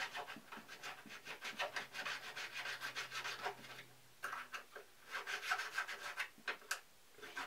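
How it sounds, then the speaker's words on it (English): The edge of a homemade quick release bracket being sanded or filed by hand, with quiet rhythmic rasping strokes repeating steadily, a short pause midway, then more strokes. "I might even sand or file a little bit more off the edge"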